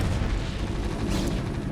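Booming cannon shots from a sieged Siege Tank in StarCraft: Brood War, dense rumbling low blasts blending together over a busy battle mix, no talking.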